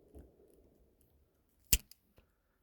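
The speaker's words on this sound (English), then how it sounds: "I'm gonna cut them really close right now to these connectors" Wires being snipped close to their connectors in a 2023 Solis 59P camper van during Dometic RTX1000 air conditioner wiring: one sharp, close cutting snap followed by a couple of small clicks, with no talking.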